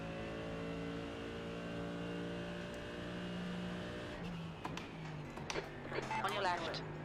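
Race car engine droning steadily in a racing video game, then a slower-class car passing close with a brief rise and fall of engine noise, while a person talks over it.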